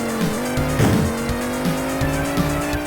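Cars race and drift in the Amiga game All-Terrain Racing: a steady engine drone runs throughout, with tire squeals at the corners.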